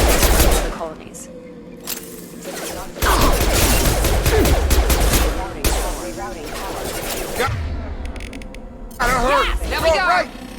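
Mass Effect gunfire crackles in loud bursts of rapid shots with mechanical clanks and a crash, in several separate flurries, under game voices speaking.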